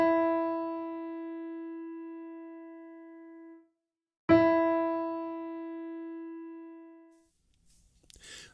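A single sustained musical note E, the first line of the treble clef, rings out clearly and fades, then is struck again and decays slowly, followed by a faint rustle.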